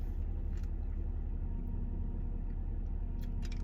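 A car engine idling, a constant low rumble that stays steady and fairly quiet from start to finish, with a few faint higher clicks near the end.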